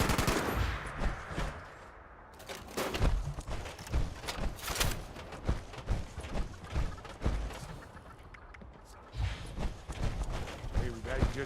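Heavy guns in a Halloween-event public test match fire in rapid, loud bursts of shots with short pauses between volleys, a voice occasionally audible underneath.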